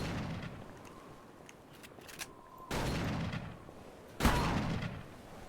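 Two loud shotgun blasts in Call of Cthulhu: Dark Corners of the Earth, spaced about a second and a half apart, each a sharp crack followed by a booming, rumbling decay over a low ambient drone.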